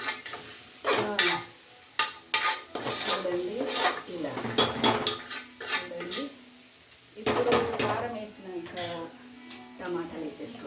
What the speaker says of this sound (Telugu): కారం వేసి ఇలా కలుపుకోవాలండి